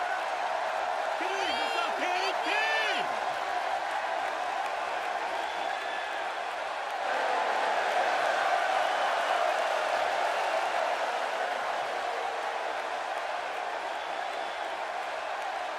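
A capacity wrestling arena crowd in the WWE 2K16 video game roars and applauds continuously as a steady, distant wash of noise, with a brief whoop early on and no break in the crowd sound.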